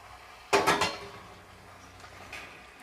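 Small cut chicken pieces dropped into a cooking pot, a brief close clatter of a few quick knocks followed by faint rustling and a soft later tap.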